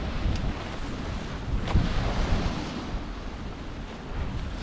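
Steady outdoor wind buffets the microphone on a cold beach beside the River Humber at high water, a constant rushing roar with gusts rising and falling, no voices present.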